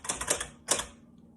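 A typewriter clatters in two short bursts of rapid keystrokes, close and crisp, separated by a brief pause and fading into quiet.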